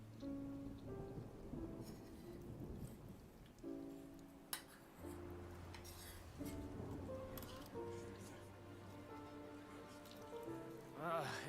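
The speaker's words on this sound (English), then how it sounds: "It's raining again?" Steady rain falls across a game scene in Genshin Impact, a continuous soft patter spread over the whole stretch, with musical tones and effects layered on top and a brief sharp hit midway.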